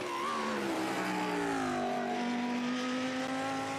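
The number 8 LEGO Technic Lamborghini GT race car roars in a sim racing endurance event at the digital Nürburgring, its engine note rising and falling through gear changes, loud and continuous with no voices.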